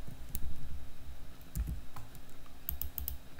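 Keys clack in quick, uneven bursts as a formula is typed into an Excel spreadsheet on a computer keyboard, close and clear with no voices.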